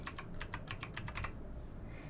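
Captcha being typed on a computer keyboard: about nine quick, close key clicks in a steady burst, then a pause over a faint background hum.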